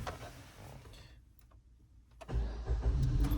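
A Maruti Suzuki Ignis in cold winter weather, with a fault of a frozen, cracked pipe, cranks after a quiet pause with faint ticks, then the engine catches and rumbles loudly and close, with no talking.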